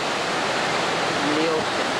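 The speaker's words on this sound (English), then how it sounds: "you can swim underneath that waterfall" Broadband rushing of a waterfall spilling beside a swimming pool on a 1988 cruise ship, loud and steady throughout with faint voices in the background.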